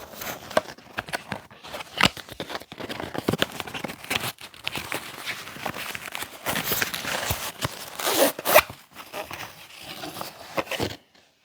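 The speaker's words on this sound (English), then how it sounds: "let's go ahead and open up the other box" Opening a DJI Mic box, close up: continuous crinkling, rustling and scraping of cardboard and packaging, with sharp clicks and tearing bursts throughout. Handling gets busier near the end, then stops abruptly.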